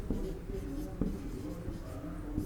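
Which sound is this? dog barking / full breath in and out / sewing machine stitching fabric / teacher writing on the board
teacher writing on the board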